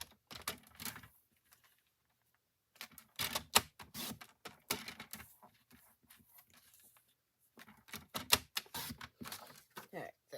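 Paper pieces being cut for handmade cards, a series of crisp, sharp cutting clicks in bursts alternating with a person talking close by.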